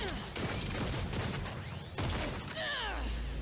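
Rapid rifle fire from a Gunslinger character in the Lost Ark video game, dense bursts of shots with metallic weapon-switch clatter and swooshing skill effects, loud and close throughout.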